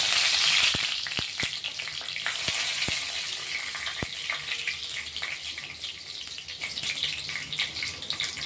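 Chopped garlic and curry leaves frying in hot oil for a Marathi-style matki dal, a loud close sizzle and spatter with sharp crackling pops scattered through the first half, settling into a steady hiss.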